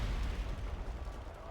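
Artillery fire in a strategy video game, a deep low rumbling boom that starts loud and rolls off into a sustained low-frequency roar, with faint further thuds beneath.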